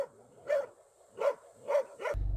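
Several dogs that roam near a village bark together in three loud, separate bursts at a resident who comes close, with short quiet gaps between the barks.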